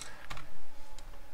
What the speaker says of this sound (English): when you are typing in your code